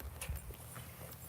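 Hooves of a horse ridden bareback clip-clop in a short, uneven walking rhythm. The steps are close and moderately loud against low rumbling background noise.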